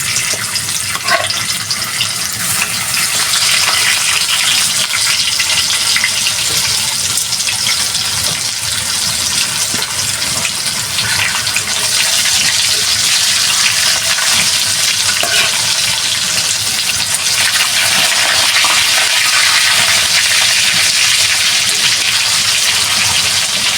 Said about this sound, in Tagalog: Tukwa naman sunod kong prituhin.